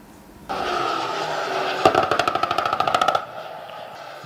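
Air-to-ground firing exercise at Kwenev Air Range in Makurdi, Benue State: a steady aircraft roar builds, then a loud rapid burst of roughly fifteen evenly spaced shots rattles out over about a second before the engine noise cuts away.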